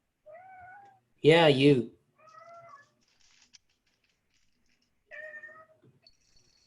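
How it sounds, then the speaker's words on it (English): A pet cat meows loudly at close range in one long, wavering, drawn-out call, set between short bits of a person talking quietly before and after it. "I also need to get my cat to stop playing with the wires under my desk"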